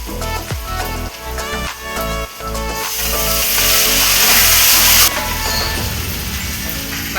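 Spice paste going into hot oil with fried potatoes: a few stirring scrapes, then a loud, rising sizzle that swells as the paste hits the pan and eases off slightly near the end.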